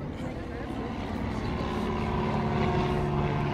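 A propeller airplane drones steadily and loud at the La Ferté-Alais air show, its engine tone holding constant throughout while a voice talks over it.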